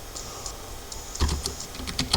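Keys clatter on a computer keyboard while HTML code is entered, soft irregular taps that speed into a quick burst of clicks near the end, close and alone.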